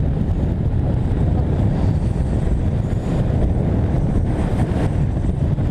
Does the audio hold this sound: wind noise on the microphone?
yes